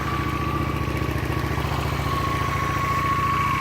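A 2007 Honda Shadow VT750 motorcycle engine runs close by at a steady idle, a low rhythmic throb with a constant mechanical whine above it and no voices.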